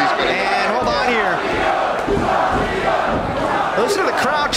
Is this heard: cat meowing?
no